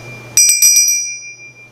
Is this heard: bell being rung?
yes